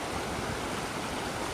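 Steady, dense rushing roar of a river waterfall in Japan, close and loud, a continuous broadband wash of falling water with no voices over it.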